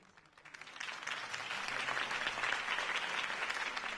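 A crowd in Batman: The Telltale Series breaks into applause after a campaign speech, the clapping swelling quickly and holding as a dense, steady roar of many hands.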